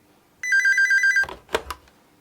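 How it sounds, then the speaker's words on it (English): A telephone bell rings in a short rapid trill of repeated chimes, loud and close, then stops abruptly and is followed by a couple of handling clunks as the receiver is picked up. "The telephone rings."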